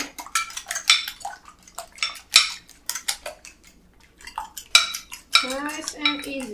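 A fork whisks egg in a bowl for Polish krokiety, giving rapid irregular clinks and scrapes of metal on the bowl that come in bursts with short pauses, close and clear, ending in a brighter ringing clatter.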